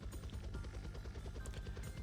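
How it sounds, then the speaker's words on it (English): A heavy military helicopter throbs overhead in a fast, steady low rotor pulse, continuous and fairly quiet, with no voices. "A heavy motor sound ran through the sky like it was chasing them, and the huge helicopter danced as it followed them."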